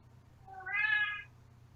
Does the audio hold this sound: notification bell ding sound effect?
no